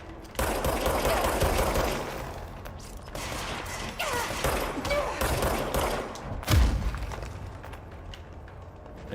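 Enemy gunfire rattles through a firefight in the video game Control, dense bursts of shots running almost continuously for several seconds with one louder blast near the end, amid game sound effects.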